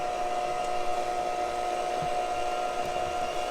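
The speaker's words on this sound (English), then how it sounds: "today I'm going to use my KitchenAid because that's what I used in my very first video" KitchenAid stand mixer working yeast roll dough, a steady loud motor whir with a constant whine, running unbroken throughout with no talking.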